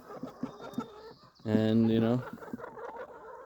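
Chickens scratching at the ground give a short, loud, drawn-out cluck near the middle, with faint clucks and scratching around it while a person speaks briefly.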